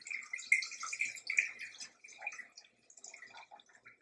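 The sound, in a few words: pouring pickling brine from a jar into a pot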